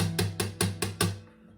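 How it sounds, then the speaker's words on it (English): Five evenly spaced percussive thumb slaps on an acoustic guitar, low E string snapping against the fret, close and crisp, fading after the last hit. "low E string hitting off the neck here, the fret."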